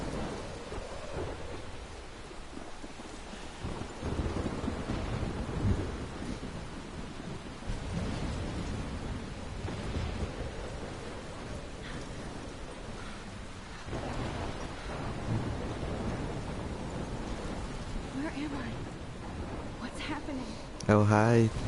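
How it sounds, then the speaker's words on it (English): Steady rain pours with low rolling thunder rumbling underneath, a continuous stormy wash in a video game that swells and fades, ending in a brief burst of sound. "I'm trapped in a storm?"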